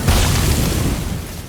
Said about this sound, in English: And then we get these explosions